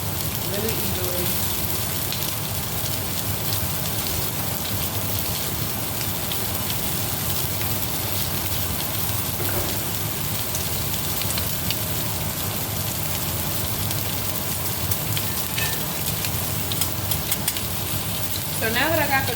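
Lamb chops frying in an oiled pan, a steady close sizzle and crackle that runs unbroken, with a faint voice and occasional clinks in the background.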